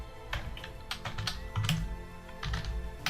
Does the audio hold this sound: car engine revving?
no